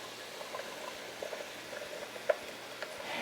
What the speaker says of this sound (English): Everything is simmering.